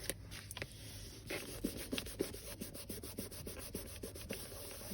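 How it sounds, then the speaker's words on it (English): Hands rubbing down a page of a paper bag mini junk journal, a close, steady scraping and brushing that repeats in short strokes with no talking. "Give that a good rub."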